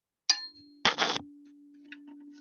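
A tuning fork for the note D is struck with a sharp metallic clang, then a second knock sets it ringing, leaving a steady pure tone that lingers faintly.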